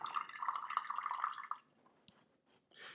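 Rinse water is poured off loose tea leaves, a steady close trickle and splash lasting about a second and a half, then cutting off to near silence with a stray drip.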